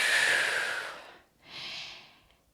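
Heavy breathing during a squat: a long, forceful exhale, a brief pause, then a second shorter breath, close and loud with no talking.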